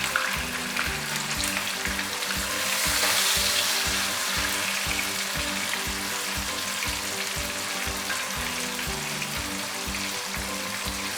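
Beef pieces sizzle in a pot of softened tomatoes for yakhni pulao, a loud, continuous frying crackle with rhythmic stirring scrapes repeating throughout, no voices.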